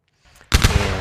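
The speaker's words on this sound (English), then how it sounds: "The cannons went off automatically." Automatic cannons fire at an outdoor event: after a faint lead-in, a sharp loud blast hits, followed by two more quick booms and a ringing rumble, close and punchy.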